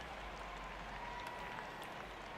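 A ballpark crowd cheers steadily in the OOTP24 baseball video game as fans rise to their feet, a dense continuous roar with no talk over it.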